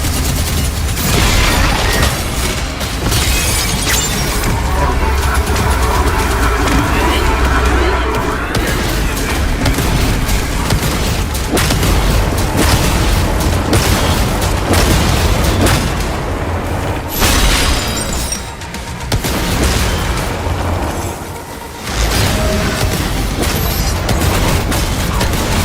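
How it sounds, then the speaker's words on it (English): Rocket launcher explosions in the video game Doom: The Dark Ages, dense booming blasts and rumbling impacts layered over a continuous loud battle din, with brief dips between barrages. "The rocket launcher is so OP."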